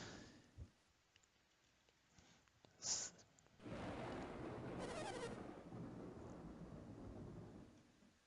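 Stormy night scene in the video game Golden Sun: a faint early rumble and a sharp crack lead into loud, sustained thunder with rain-like wash rolling on for several seconds, no talk.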